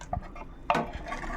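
A heavy cooking pot holding a Katla fish head curry is lifted off a gas stove with a few clanks, the sharpest metallic knock coming midway. Quiet scrapes and taps follow.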